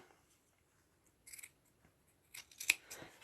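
Scissors snipping through thick wool fabric while making toggle buttons: a few short, crisp cutting snips in separate clusters against near silence, the last one the sharpest.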